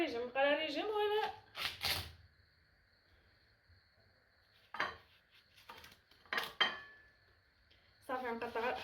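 A knife slices through a watermelon, giving a few separate sharp clacks against a hard surface with quiet gaps between them. A person talks before and between the cuts.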